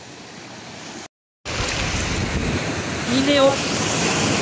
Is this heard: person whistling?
no